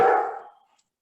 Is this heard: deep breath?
no